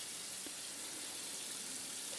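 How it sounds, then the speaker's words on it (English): Faucet water running steadily into a sink while dishes are cleaned, a dense, even hiss and gush, close and unbroken. "This type of faucet is really nice for cleaning."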